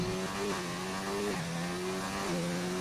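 An F1 car in F1 2019 at the USA Grand Prix whines through a tight left-hander on a fast lap, its high engine note holding steady and then dropping in stepped downshifts, close and continuous.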